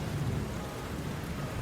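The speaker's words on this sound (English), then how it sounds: "We walked silently in the rain." Steady rain falls continuously over a city street, a dense even hiss with a low rumble underneath, fairly quiet and constant with no voices.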